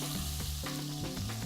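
Garlic frying in oil in a pan, giving a loud, steady, close sizzle with a few stirring scrapes and no voices.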